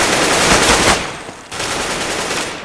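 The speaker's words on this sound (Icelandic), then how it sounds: "Björns með annað skot!" Rapid automatic gunfire from a Counter-Strike match at a 2016 LAN tournament, loud and dense bursts with a short pause before the shooting resumes, no voices over it.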